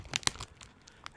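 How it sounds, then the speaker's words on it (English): Crackling of a cocoa wafer snack wrapper being handled close by, a few sharp crinkles in quick succession followed by softer, scattered rustles. "I hope that's not too loud for you, the crackling of the wrapper."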